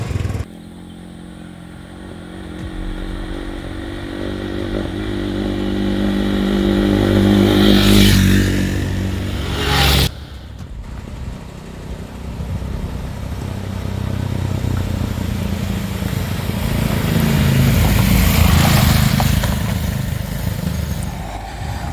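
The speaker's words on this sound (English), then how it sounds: "So I'm riding the Expulse and my cousin is riding the Duke 390" Hero XPulse and KTM Duke 390 motorcycles ridden on a hill route near Phantom Rock in Wayanad, with a close engine drone that rises and falls as the riders rev and shift, alongside wind rumble and clatter.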